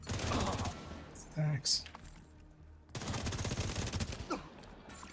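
Rapid video game gunfire crackles in dense bursts, broken by a short pause, with a player talking over the shooting.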